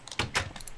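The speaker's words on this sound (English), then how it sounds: "That's Daniel slamming the door in my face" A door slams shut in Minecraft, two quick close knocks in rapid succession followed by faint trailing clatter.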